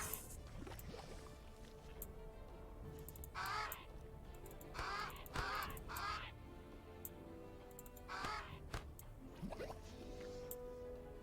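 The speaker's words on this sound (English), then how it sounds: "Right, we have a crow here in the underground." Crow cawing in the video game Age of Wonders, a few harsh caws in separate bursts over a steady game ambience with dripping, watery background sounds.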